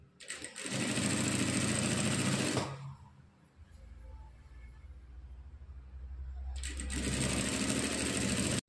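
A sewing machine stitches dori rope in two loud, steady bursts of rapid mechanical whirring, with a quieter pause of low hum between them and no voices.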